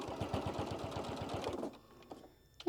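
A sewing machine runs a fast, even stitching rhythm while basting fabric for a scissor pouch, then stops abruptly, leaving faint handling clicks.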